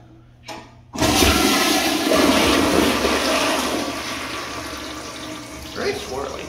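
A first-generation Gerber Ultraflush toilet flushes with a sudden loud whoosh after a brief click, then a sustained, swirling rush of water that slowly eases toward the end.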